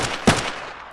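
A single sharp gunshot in Arma 3 with the Ravage mod on Evergreen Island, loud and close, followed by a short decaying tail. No other sounds stand out.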